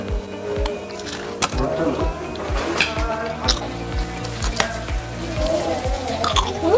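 Crunchy kerupuk samiler cassava crackers chewed close to the mouth, a regular series of crisp crackling bites and crunches with moist mouth sounds, while a voice speaks faintly in the background.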